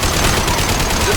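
Concussive Shot ability fired in Mass Effect 2, a loud, dense burst of blasts and gunfire-like crackle filling the moment, close and sustained.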